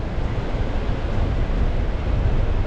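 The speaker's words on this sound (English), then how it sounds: "Just listen to those waves and that wind though." Waves and wind on a Scottish beach during Storm Eowyn, a loud, steady roar of surf and buffeting wind without pause.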